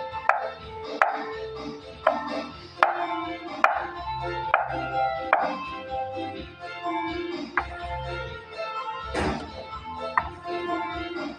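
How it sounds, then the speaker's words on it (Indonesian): A knife chops sausage into pieces on a board for a homemade skillet pizza, giving a run of sharp, close, irregularly spaced cuts over a steady background of music. "Dan dipotong sosis ya."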